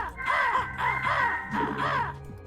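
Crows in a video game map give four loud, harsh caws in a steady rhythm, close and clear with no talking.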